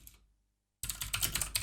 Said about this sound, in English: typing whatever it is you want